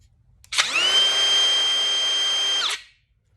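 A DeWalt brushless router spins up sharply, holds a steady high-pitched whine for about two seconds, then cuts off and winds down, loud and close with no talk.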